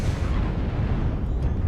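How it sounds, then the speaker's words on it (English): Griffin SRM missiles slam into a friendly mech in a MechWarrior match, a dense, continuous roar of blasts and rumbling impacts that holds loud and steady throughout with no voices. "Glory getting a face full of Griffin SRM's friendly fire"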